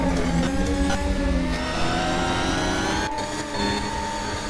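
An F1 car in the Formula Apex racing game accelerates hard, its engine note climbing steadily with a loud, continuous high-revving whine and a brief shift dip.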